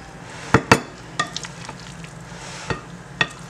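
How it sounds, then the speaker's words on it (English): A spoon folds and stirs potato salad in a bowl with wet, squelching scrapes and a few sharp clinks against the bowl's side, spaced irregularly over a quiet background. "just fold it, just keep going around, turning the bowl around as you go, and just folding it in"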